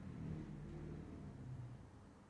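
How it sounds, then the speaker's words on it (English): A car passing outside heard faintly through a podcast microphone, a low muffled engine rumble that swells slightly and then fades away. "I wonder if you can hear that car through this microphone."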